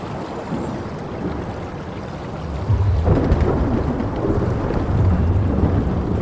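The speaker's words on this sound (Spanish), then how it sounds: "Está cayendo como una tormenta en el exterior" A thunderstorm rages outside in the video game Soma: heavy rain roars continuously while low thunder rumbles swell midway and roll on, loud and enveloping, with no talking.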